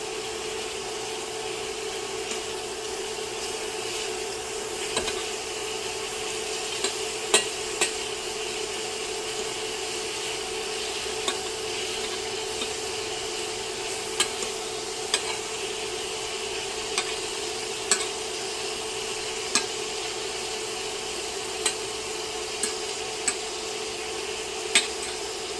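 Shrimp frying over medium to high heat in a pan, a steady even sizzle running throughout with occasional faint clicks and taps, no voices.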